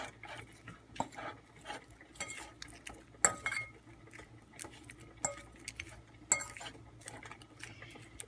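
Shrimp marinade being mixed in a bowl, with soft scraping, clinking and tapping of a utensil against the dish at an irregular pace, fairly quiet and close, with no talking.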